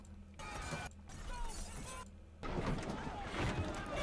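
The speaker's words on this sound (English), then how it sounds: "Glass is breaking." Glass shattering and crashing amid collapsing buildings during an alien attack scene in War of the Worlds (2005), a dense, loud, chaotic jumble of breaking debris and rumble with brief lulls between bursts.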